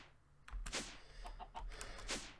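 A Minecraft chicken in the Stoneblock modpack gives a few soft clucks in short bursts, fairly quiet and alone with no talking.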